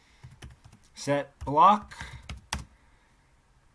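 Rapid clicks of a computer keyboard as Minecraft command-block code is typed in, close and steady, with a few spoken words over it.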